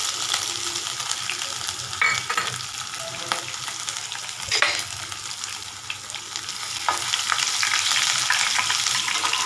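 Crushed ginger and garlic frying in hot oil in a pan, a steady loud sizzle with occasional stirring scrapes and pops, close up and without talk.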